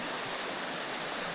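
A small brook trout creek flows in a continuous, dense rushing wash, close and steady with no breaks.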